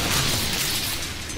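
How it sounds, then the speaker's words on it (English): Rapid weapon fire from the Inferno in the video game Trickster, a dense, continuous burst of loud overlapping shots packed tightly together with no clear gaps. "It looks like I get 6 shots off in a second"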